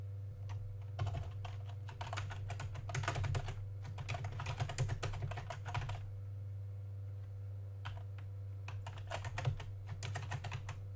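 Computer keyboard typing in bursts of quick, close key clicks, pausing between short runs of words over a low steady hum, with no talking.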